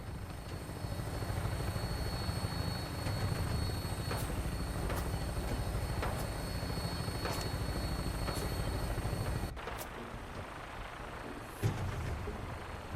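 Vertibird aircraft from Fallout 4 on final approach to an airport, a steady loud rotor-and-engine drone that holds throughout, with a brief dip and a sharp knock near the end.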